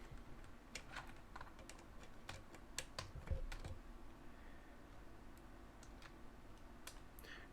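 Rapid clicking keystrokes on a computer keyboard hooked to an RC2104 Pro Pride build, irregular bursts of keys tapped close up over a steady low hum, with no voices.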